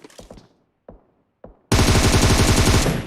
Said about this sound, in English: Tries to hit with the M7.